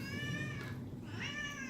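A nearby cat lets out two drawn-out meows in an indoor room, soft and fairly quiet, the second rising slightly, with no one speaking over them.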